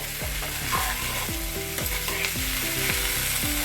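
Chuda matar, flattened rice with peas, is stirred in a hot pan: a steady sizzle under repeated scraping strokes of a spoon, close and fairly loud, with no talking.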